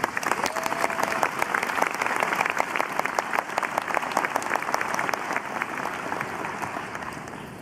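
Audience applause fills a 2013 School of Management commencement ceremony at Binghamton as a graduating student speaker is welcomed to the stand, a dense, steady clapping from a large crowd sustained throughout without any talk.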